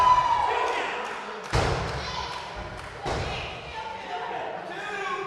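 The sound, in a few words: wrestler slammed onto the ring by a powerbomb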